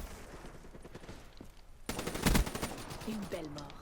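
Gunfire from the Black Ops 3 multiplayer video game: scattered rapid shots give way to a loud, dense burst of automatic fire, followed by game effects and a brief voice.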